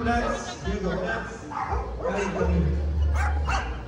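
Diego, a dog in bite training, lets out several sharp, loud barks and yips close by, mixed with a handler's voice talking over them.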